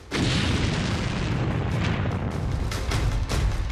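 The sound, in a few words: explosion of burning tank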